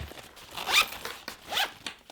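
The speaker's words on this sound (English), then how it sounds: "We're gonna pull this zipper end out. And let's zip it up." A zipper on a handmade sewn zip pouch with a big zipper pull runs closed in two quick, close strokes with short pauses, each a bright, rasping zip.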